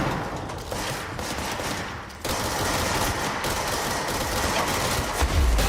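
Continuous rattling fire in the video game Control, loud and close, as a grenade launcher and other weapons go off in a dense, steady barrage with a brief dip partway through.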